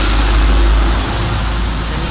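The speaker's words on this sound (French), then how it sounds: "un petit camion qui vient de passer" A small truck passing on a street: a loud, close, low engine rumble that peaks early and then eases off as it moves away.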